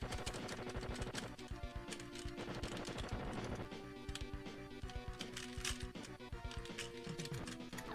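Gunfire from a Gundam video game featuring the F91 mobile suit: rapid, rhythmic shots and sharp clanks repeating steadily over layered game music.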